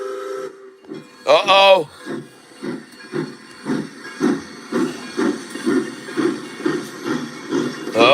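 A steam train lets out a loud, bright whistle blast, followed by steady rhythmic chuffing and hissing as it gets moving nearby. A voice briefly speaks over it.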